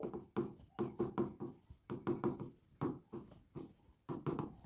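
Chalk or marker scratching across a classroom board during a chemistry lesson, a series of short rhythmic strokes with brief gaps between them, close and clear with no talking.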